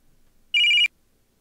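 A phone rings in the game Picture Perfect Boyfriend: one short, bright electronic ring burst, close and clear, standing alone in near silence.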